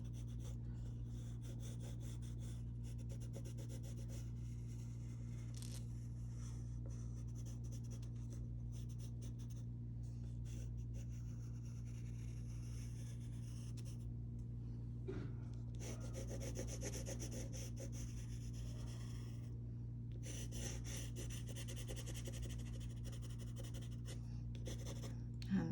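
Graphite pencil held on its side drags across paper in soft, continuous rubbing strokes while shading a plaid flannel shirt drawing, faint and close, over a steady low electrical hum.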